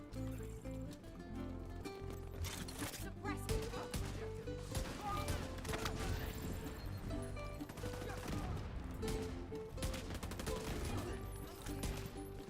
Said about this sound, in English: While we are shooting at her, she is shooting at me